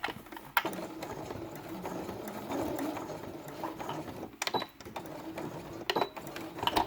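A sewing machine runs a straight stitch across felt for a quiet book page, a steady close mechanical whir with brief pauses and restarts, alone without talk.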